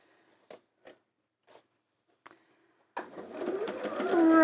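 A few soft, scattered clicks and taps of handling fabric strips, then a sewing machine starts up and runs a fast, whirring stitch close by, rising steadily in loudness.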